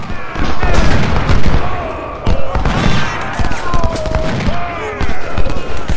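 Civil War battle in the game Ultimate General Civil War, with artillery booms and rattling rifle volleys crackling in dense overlapping bursts, loud and near, while someone talks over the fighting.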